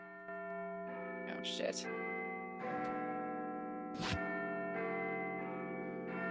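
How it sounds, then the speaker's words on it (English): A clock-tower bell in Yharnam chimes in several deep, ringing strokes that hang and decay over a steady drone, while a voice briefly exclaims at the start. "we hear the sound of a bell chiming."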